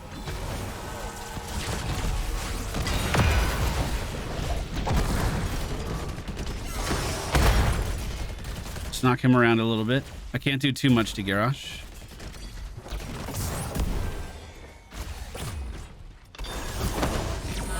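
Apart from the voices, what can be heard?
advancing wall in Heroes of the Storm, a video game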